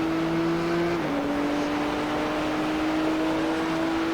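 GT3 race cars, an Audi and a BMW, racing at Sebring in the iRacing simulator, give a steady loud engine drone whose pitch dips briefly as if shifting, then holds.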